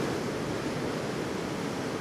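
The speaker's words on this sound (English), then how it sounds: "the sea comes shooting in there and hits into the rocks at the end" At Godrevy the sea rushes in over the rocks, giving a steady, dense wash of crashing surf that fills the whole moment without letup and with no one speaking.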